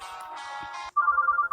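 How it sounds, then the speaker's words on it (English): A cell phone rings in the dating-sim game Mr Love Queen's Choice: a steady electronic ringtone tone that starts abruptly after a moment of soft background music, loud and close, with no talking. "Just then, my cell phone rang."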